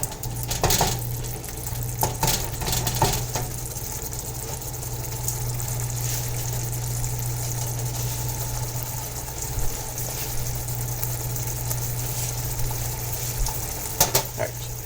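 Shakshuka simmers in a pan on a stove with a steady, soft sizzle and bubbling, while utensils clink and scrape against the pan now and then.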